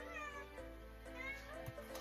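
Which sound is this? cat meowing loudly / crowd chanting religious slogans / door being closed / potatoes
cat meowing loudly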